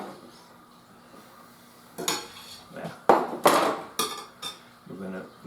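Cheese being stirred into leftover pizza chips in a bowl, with a few close clinks and scrapes of a utensil against the dish in irregular bursts, no talking.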